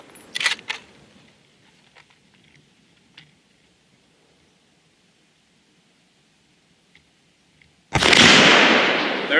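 A single loud rifle shot from a Remington 700 chambered in 7mm Rem Mag firing Barnes 139gr LRX ammunition, a sharp blast with a long roaring decay, preceded by quiet ambient handling sounds and a faint crack early on.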